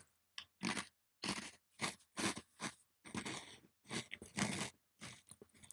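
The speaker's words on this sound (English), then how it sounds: "I hope you can hear me chewing really well." Close, crisp crunching of food being chewed, bite after bite in irregular bursts separated by short silences, loud and right at the mouth with no talking.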